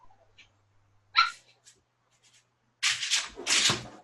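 A dog that seems distressed gives a couple of sharp, close barks or yips, first a short isolated burst and then a louder cluster near the end, with quiet stretches between.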